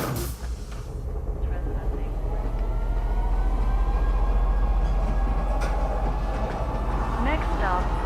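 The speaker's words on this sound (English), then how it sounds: "there's a train" A metro train rolls into a station in the space game Star Citizen, a loud sustained low rumble and rolling hum that swells and holds with faint clatter and a rising whine near the end.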